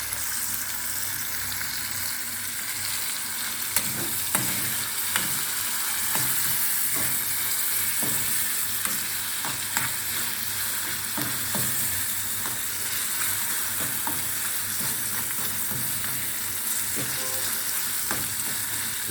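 Small pieces of food frying in a pan, part of a Jamaican-style cookout with smoked herring and roast breadfruit; a steady, dense sizzle with scattered crackles and pops and the odd clink of stirring runs throughout, close and even, with no talk.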